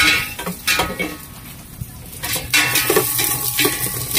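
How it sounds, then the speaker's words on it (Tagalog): Lemongrass and chili sautéing in a little oil in a pan, with soft sizzling under repeated metallic clinks and scrapes of a utensil stirring against the pan. "Magigisa na."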